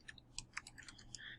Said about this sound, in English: Terrible typing skills here